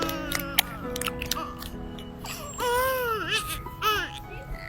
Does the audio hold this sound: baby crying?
yes